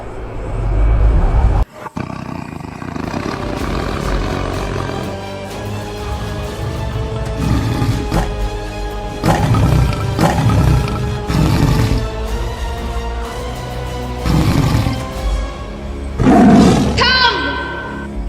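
A tiger roars inside a village house, with loud, drawn-out growling roars repeating over a long stretch and mixing with other sounds and a voice, ending in a sharper, rising cry.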